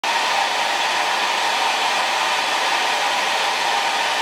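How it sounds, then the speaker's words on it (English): An old blow dryer runs steadily on its cool, low setting, giving a constant close airy whoosh that holds unchanged for the whole stretch with no voices. "Please put your blow dryers on cool if you're going to be dumb like me and try this shit."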